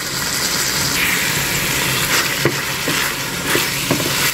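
Pork with pumpkin and red onion being stirred in a hot wok, a steady sizzle with scraping spatula strokes throughout, close and continuous.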